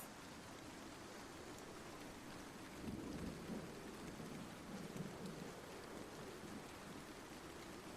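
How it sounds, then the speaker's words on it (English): Deep rolling thunder from a nearby lightning strike in a storm, booming up around the middle under a steady wash of heavy rain that runs throughout. "you hear another bolt of lightning, much closer to you this time"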